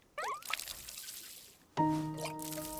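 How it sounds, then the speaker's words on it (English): Water pouring from a watering can onto a plant in the game WanderStop, with a light trickling splash followed by a bright chiming tone as the watering completes. "get out my watering can"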